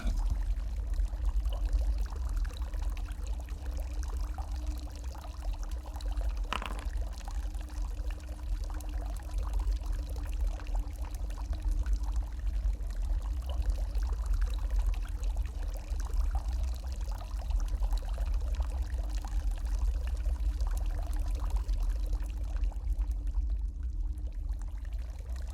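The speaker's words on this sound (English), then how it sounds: "the mermaid sprays water over the eastern half of the room" A mermaid sprays water across a room in a tabletop game, heard as a steady, continuous pouring and splashing rush that stays even and unbroken throughout.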